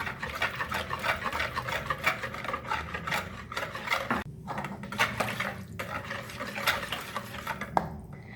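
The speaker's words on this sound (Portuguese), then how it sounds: "Agora eu venho aqui com um ovo e uma gema. Vou bater aqui." An egg and an extra yolk are beaten with a utensil against a bowl while mixing cuca bread dough, giving steady close scraping and rubbing strokes in a continuous rhythm.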